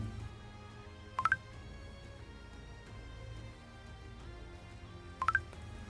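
Snapchat message notification chime on a phone, a short bright three-note rising blip heard twice about four seconds apart over quiet background.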